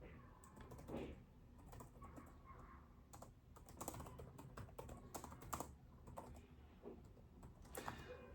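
Typing a reply on WhatsApp, with quiet, continuous keyboard clicking in irregular bursts throughout and no voice.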